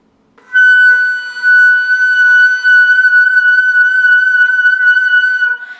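A single high F sharp on the flute held steady and bright for several seconds, with a couple of brief breaks for breath, clear and close.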